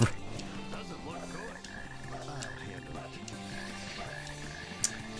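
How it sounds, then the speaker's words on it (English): Frogs croaking in the Sonic Heroes video game on GameCube, overlapping rhythmic croaks in varied pitches layered with game music and ambience, mid-level and continuous. "Or at least the frogs haven't spotted us somehow."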